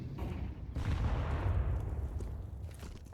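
Grenade explosion in the Counter-Strike video game, a faint muffled boom that swells into a rumbling burst and then fades under low background noise.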